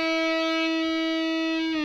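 An electric guitar string is fretted at the 7th fret and bent up two frets toward the 9th, ringing as one loud sustained note whose pitch lifts near the end, played alone.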